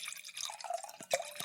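Wine pours from a bottle into a glass, a short close trickling and gurgling splash with a few distinct glugs near the end.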